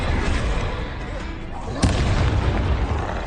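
A Confringo blasting spell going off in Hogwarts Legacy, a dense, noisy burst with one sharp boom about halfway through, then a rumbling tail.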